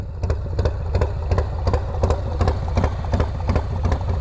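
A Harley-Davidson Low Rider S motorcycle idles with a 475c tune, its low, loping engine rumble close and steady, with regular sharp pulses and a faint ticking.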